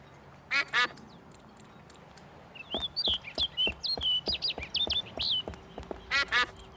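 A cartoonish duck in the adventure game Escape from Monkey Island lets out bursts of nasal quacks, paired calls at the start and end framing a rapid run of chirpy high peeps in the middle, close and clear.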